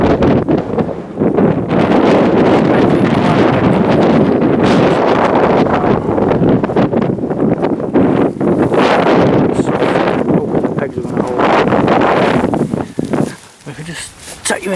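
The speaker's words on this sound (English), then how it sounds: "I hope you can hear me okay in this wind." Strong wind buffets the microphone on exposed Pendle Hill, a loud continuous roar that gusts and rumbles almost without pause before easing briefly near the end.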